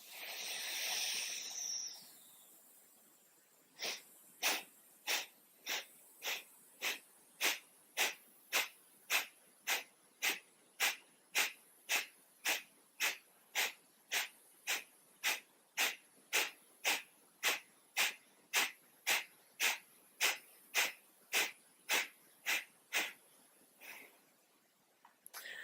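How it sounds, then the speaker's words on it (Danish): Forceful exhaling breaths during a yoga session, a long run of around thirty sharp, evenly spaced puffs through the nose, close and clear, following a softer breathy stretch at the start. "Udånding, pust ud."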